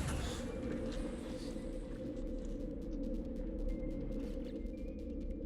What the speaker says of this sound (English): I'm gonna wait till the storm clears.